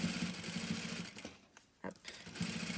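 A sewing machine stitches a ruffled cuff with a steady, fast mechanical whir. It pauses briefly near the middle, then starts stitching again, close and moderately quiet.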